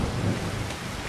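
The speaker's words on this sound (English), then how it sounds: "even though it's raining right now" Rain and thunder in the game Farming Simulator 25: dense steady rainfall with a deep rolling rumble swelling near the start, fairly loud and continuous, no voices.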